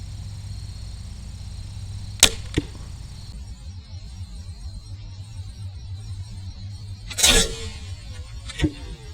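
A 480-grain Zwickey Escalite arrow leaves a slingshot crossbow and strikes a target 15 yards away. Two sharp cracks of release and impact come near the start, then a second loud shot and thud later, over faint background hum.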